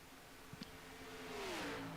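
NASCAR Cup cars at full throttle in a racing video game at Daytona, a faint engine drone that rises and swells with a sweeping revving pitch near the end.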